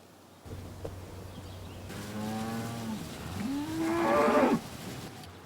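Cattle moo on a farm where the herd goes out to pasture, with two long, loud, close calls one after the other, the second rising and swelling in strength.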